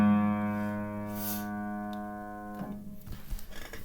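A single low A2 note on a Wurlitzer Kordevon spinet piano with a cracked soundboard, tuned a semitone flat so it sounds as G sharp 2, sustaining softly and fading before a brief clunk and handling noise.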